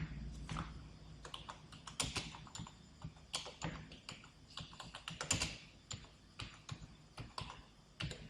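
Keys clatter in an irregular run of quick taps on a computer keyboard as text is typed, fairly close and clear, with short pauses between bursts and no voices.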